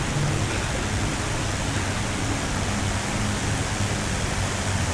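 Avro Lancaster bomber engines in Microsoft Flight Simulator, a steady, dense low droning roar that holds unbroken and loud throughout.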